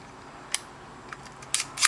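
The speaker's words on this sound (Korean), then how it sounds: "요거를 밀착시켜주기 위해서 필름을 한번 감아줄게요" Film being advanced on a Minolta Hi-Matic E film camera: a few short, crisp mechanical clicks and ratcheting bursts, close and fairly loud, with quiet gaps between them.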